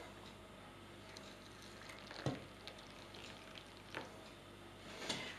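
Boiling water poured into a French individual reheatable combat ration, a gentle hissing and trickling stream close by, with soft clinks and bubbly sizzles rising now and then.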